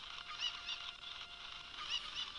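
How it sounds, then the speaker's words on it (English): Cucco chicken squawking in The Legend of Zelda: Ocarina of Time, a steady run of shrill, nasal clucking and squawks that continues without pause over a constant game background. "grab this cuckoo, or chicken, whatever you want to call it"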